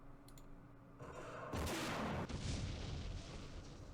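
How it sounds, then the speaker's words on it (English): Gunfire and artillery-style booms from the wargame Campaign Series Middle East, Gebel Libni scenario, with an airstrike called in on a hilltop bunker: dense crackling shots that swell into a loud sustained blast, then a rumbling barrage with no talk. "Something shooting at us."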